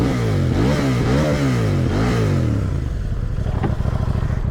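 KTM Duke 790 motorcycle fitted with an Akrapovic exhaust, loud and close, revving repeatedly in rising and falling sweeps, then settling into a rough, throbbing idle.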